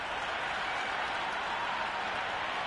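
A cricket crowd in the video game Cricket 26 applauds in a broad, steady wash of clapping and crowd noise that holds even throughout.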